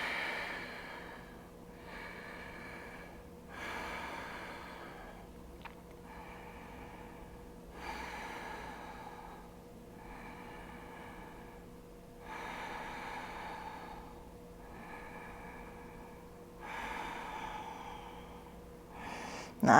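Deep, slow breaths repeat at a steady rhythm during a quad and hip flexor stretch in a splits flexibility routine, each inhale and exhale swelling and fading close to the microphone with no talking.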